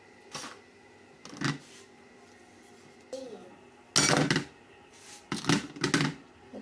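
Dishes and utensils clinking while sushi fried rice is plated at home, scattered sharp clatters and scrapes of spoons on plates in irregular bursts, close by, with brief background voices.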